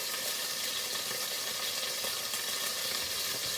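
Hot pepper sizzling in a frying pan with anchovies, a steady, dense frying crackle heard close and alone for a few seconds.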